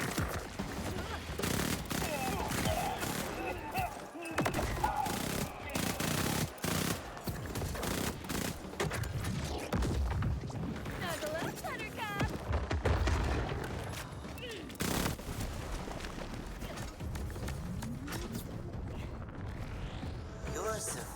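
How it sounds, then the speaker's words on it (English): A Mad Lad submachine gun in Borderlands 4 fires rapid, sustained automatic bursts mixed with explosions and game effects, while a person talks throughout. "What SMG is that? It's called the Mad Lad."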